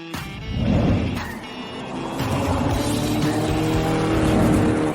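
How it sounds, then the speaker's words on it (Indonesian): A Bugatti Veyron special edition sports car roars close and loud, with a revving, droning engine note that surges and holds steady over several seconds. "Bugatti Veyron edisi khusus. Astaga, luar biasa ini."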